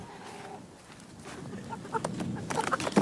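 Chickens in a backyard pen cluck and chatter faintly in short, scattered calls that grow busier toward the end, with a young rooster among the flock.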